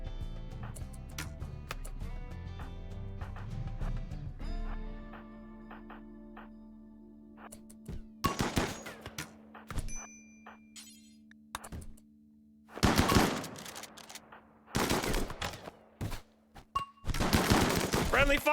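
Gunfire in RimWorld comes in several sharp bursts of rapid shots, separated by quieter stretches with faint tones and clicks, loud and close.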